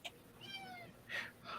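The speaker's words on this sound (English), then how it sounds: "Oh, I heard a little meow." A cat meowing indoors, a couple of faint, thin, rising mews and a short whiny cry, soft and slightly distant against a quiet room.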